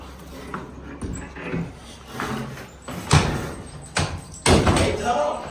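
Heavy doors at a haunted house attraction bang and thud open in several separate loud hits amid a noisy, echoing space.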